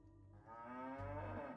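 A cow lows in the Age of Empires strategy game, one long, drawn-out moo with a rising, nasal tone, close and clear over soft game background with no talk.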